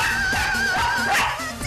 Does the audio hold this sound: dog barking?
yes